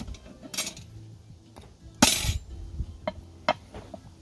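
A lidded pot of bread baking over a campfire is opened: sharp metallic clinks and clanks of the lid, one louder scrape-and-clatter midway, then a few lighter taps, fairly close against a low outdoor background.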